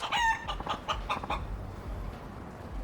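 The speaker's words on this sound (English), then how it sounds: "What the heck's a chicken doing in the middle of the city?" A chicken clucks and squawks in a quick, loud burst of rhythmic calls, then quieter clucks trail off against ambient city background noise in the Yakuza 5 video game.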